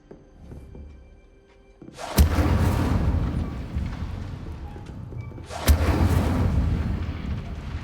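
Two sudden fiery spell blasts from the Incendio fire spell in a Hogwarts video game, each a sharp thump swelling into a loud, sustained roaring whoosh of flame, the second following about three and a half seconds after the first.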